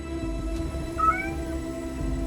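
A cat meows once in the video game 1666: Amsterdam, a short, clear, rising cry over a steady low hum of background ambience.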